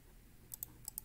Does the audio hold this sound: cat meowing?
no